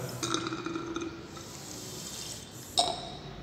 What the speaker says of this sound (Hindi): अब पानी ऐड करता जाऊँगा by the using a wash bottle